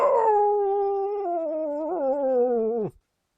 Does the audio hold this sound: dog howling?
yes